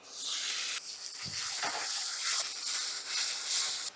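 Tomato sizzles steadily in hot oil with ginger-garlic paste in a pan, a dense, continuous hiss close by with brief stirring scrapes.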